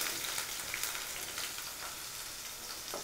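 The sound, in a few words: snake gourd pieces frying in oil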